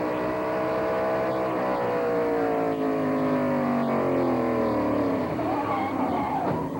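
NASCAR Busch North and Modified race cars roaring down the back stretch at New Hampshire International Speedway, several engines droning loudly together with rising and falling pitch as cars pass, heard from an onboard car.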